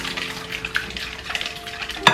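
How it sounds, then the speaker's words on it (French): Brownie batter with sugar being stirred in a bowl, a soft, close scraping and swishing of the mixing utensil, ending in a brief sharp clink. "Le sucre. On mélange tout ça ensemble."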